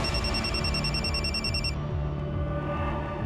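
A telephone rings in a police station office with a steady, bright electronic trill that cuts off partway through, leaving a low background hum.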